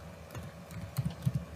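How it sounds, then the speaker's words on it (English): Someone types on a computer keyboard, a quick irregular run of soft clicks and key taps close by, with no talk. "Again I am typing"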